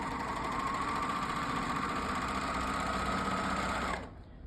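A serger sewing machine runs steadily at close range, whirring as it trims and binds a quilt edge, then stops abruptly near the end.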